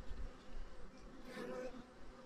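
Honeybees buzz around an opened beehive frame, a faint, continuous droning hum with a slightly swelling layer of wingbeats, no talk over it.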